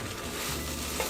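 Bread toasting in a pan on a stovetop, a steady close sizzle and crackle running the whole moment with no talking.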